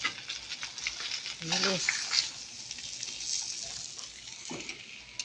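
Galunggong fish frying in a pan, a steady close sizzle and crackle of hot oil running throughout, with brief speech and a few clinks over it.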